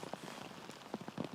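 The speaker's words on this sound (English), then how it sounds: "And the rain has coming down." Steady rain patters across an outdoor disc golf course, a dense, close hiss of drops striking the ground and surfaces with scattered louder taps, no voices.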